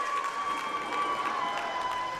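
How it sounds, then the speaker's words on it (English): A high school basketball crowd in a Zillah gym reacts to a foul call with a diffuse, faint murmur of voices and scattered noise, a steady tone running beneath it. "There's the Zillah crowd."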